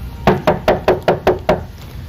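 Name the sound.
knocking on door in radio play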